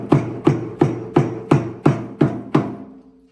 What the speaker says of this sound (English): Then after the special iron comes, she will beat the top of the knots to make them tight.